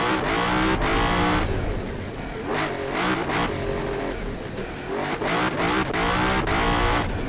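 A Le Mans hypercar in BeamNG.drive accelerating hard around an airfield test track, its engine loud and close with rising revs broken by quick gear shifts and repeated surges.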